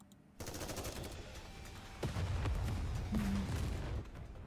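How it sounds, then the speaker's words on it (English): Rapid gunfire and explosions in the video game Goddess of Victory: NIKKE, a dense continuous fusillade with heavier booms layered in, loud and sustained from start to finish. "The square is filled with the sound of gunshots and explosions."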